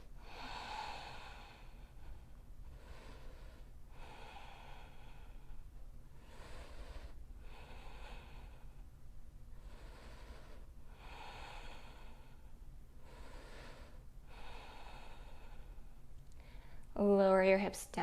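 Slow, deep breaths are drawn in and pushed out while a yoga posture is held, roughly eight even inhale-exhale cycles close to the mic, ending with a brief chime.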